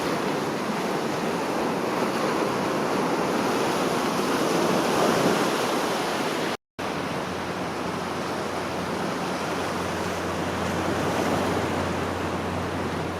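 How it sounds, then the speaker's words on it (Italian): Sea waves surging onto the beach at Buggerru, Sardinia, a steady, full wash of surf with wind noise, continuous and loud, broken by one very brief dropout midway. "Questa è la magnifica spiaggia di Bugerru."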